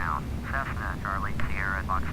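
An airplane taxis in Flight Simulator X at a busy airport, a steady low engine drone running throughout beneath someone talking over it.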